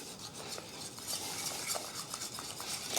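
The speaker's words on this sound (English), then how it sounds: "And just keep beating until the mixture turns smooth." Pastry cream mixture for chocolate éclairs is beaten in a bowl, giving quick, rhythmic scraping and tapping strokes, close and fairly quiet with no voices.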